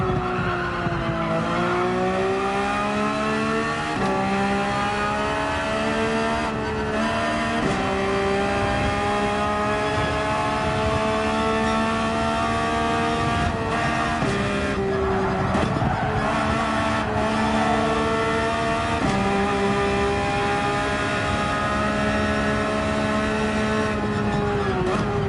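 A Porsche 911 laps Yas Marina Circuit in a time attack. Its engine wails loud and close, pitch climbing and then dropping at each gear change, with brief tire noise mixed in throughout.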